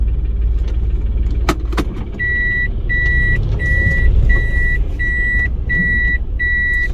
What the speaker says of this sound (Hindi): मैं क्योंकि गाड़ी को थोड़ी सी पीछे करूँगा ताकि वो मटेरियल वाले जो है वो उनको रास्ता मिल सके।